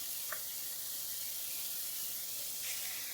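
Teriyaki sauce sizzles in a hot frying pan with a steady, close hiss that continues for a few seconds, loud and even, without any voices.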